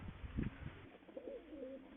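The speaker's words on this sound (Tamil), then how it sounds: "நம்ம ரீகன் என்ன புறா? ஆமாம் ரீகன் புறா." A Reagan pigeon coos close by, with a soft, wavering, low call that follows a few dull thumps at the start.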